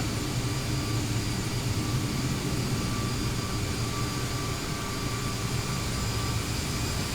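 A propeller airplane engine in a flight simulator game, on a simulated flight to Huntsville, Alabama, drones steadily and evenly for the whole stretch, loud and unbroken with no talk over it.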